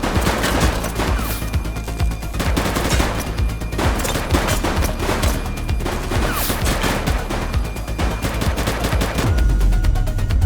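Sustained gunfire in The Precinct police game, loud dense bursts of rapid shots with steady crackling volleys running throughout and no pause.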